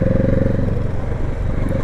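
A Kawasaki Z650 RS engine pulls hard above 5500 rpm, a loud, steady, throbbing roar heard up close without a break.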